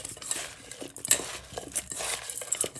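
Spices including cumin being mixed with ingredients for goat skewers, a close run of clinking, scraping and rustling in uneven bursts with no talk.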